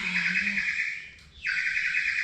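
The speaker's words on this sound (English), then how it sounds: "my turtle doves. My blue house is singing again. I can't stand all that cooing." Birds singing nearby, with a steady, continuous high-pitched trill that breaks off briefly and then resumes, heard clearly and alone; turtle doves are the named source, though the sound resembles chirping more than cooing.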